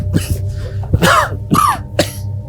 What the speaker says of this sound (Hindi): इतना खांस रहे हो, दवाई नहीं ली क्या?